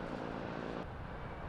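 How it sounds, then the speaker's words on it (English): A Police Scotland helicopter drones steadily overhead as a continuous, fairly loud rotor and engine roar that changes abruptly partway through. "A Police Scotland helicopter was also drafted in."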